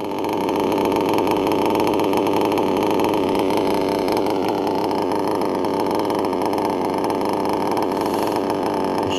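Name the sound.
engine idling very low, servo bouncing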